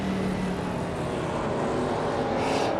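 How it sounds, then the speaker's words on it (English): A 1993 Porsche 911 964 Turbo race car in the 1990s supercars class of a racing video game, its engine droning steadily and loudly throughout, with a constant buzzing tone and a brief rise in pitch near the end. "Our car on pole is Botchin Cage in a 1993 Porsche 911 964 Turbo from the 1990s supercars class."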